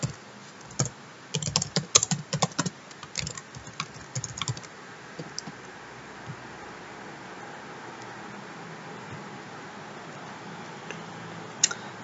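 Code is typed on a computer keyboard in quick, uneven bursts of clicking keys for about five seconds. A quieter stretch with steady low hiss follows, and a couple of final taps come near the end.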